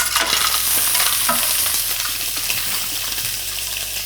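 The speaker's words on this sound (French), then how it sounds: "On met nos carcasses de homard dedans." Lobster carcasses frying in olive oil in a pan for a lobster sauce, a loud continuous sizzle with stirring scrapes and bubbling, steady and close.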